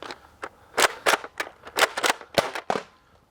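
Nerf Rival Curve Shot Helix blaster loaded with three rounds fires a string of sharp, snappy pops in quick irregular succession, close and loud, with no talking.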